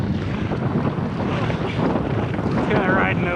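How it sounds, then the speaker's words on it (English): Pungo 140 kayak riding slowly over choppy waves on a windy day, with steady wind buffeting and water splashing against the hull throughout, fairly loud and continuous. "Kind of riding over these waves for the most part"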